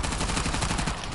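Rapid automatic gunfire during combat in Uncharted: The Lost Legacy, a dense, loud burst of quick repeated shots sustained across the full moment with no pause.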